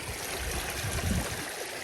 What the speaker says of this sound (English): And there's also some more water coming into it there.